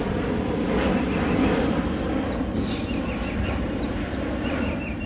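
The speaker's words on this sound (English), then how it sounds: "Look how the plane just look like it's just so close." Airplane flying low overhead outdoors, a loud continuous droning roar with a few faint bird calls above it.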